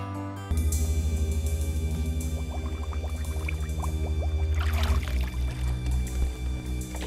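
Water poured out in a steady, continuous stream, loud and close for about five seconds, then tapering into uneven splashing as the flow ends.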